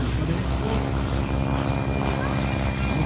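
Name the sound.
propeller airplane flying close at air show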